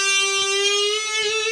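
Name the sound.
electric guitar 8th fret B string bend with vibrato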